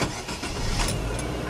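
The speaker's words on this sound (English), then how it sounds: "and start the engine" Car engine starting in a driving-school car, a dense broadband roar that begins immediately and holds steady at close range with no voices.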